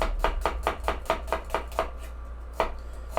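A knife chops onions on a cutting board in a quick, even run of sharp knocks, about a dozen close crisp strikes with a brief pause before the last few.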